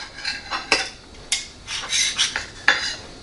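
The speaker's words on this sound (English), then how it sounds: "I'll just do a little slicing of this so that it's some bite-sized pieces for me" Knife cutting a cooked whole turkey into bite-sized pieces, with scraping strokes and clinks against a plate or pan in irregular bursts, close and moderately loud.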